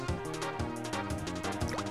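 A waterfall pours into a cave pool in the video game Kirby 64, with steady splashing and dripping water layered under loud, busy game music.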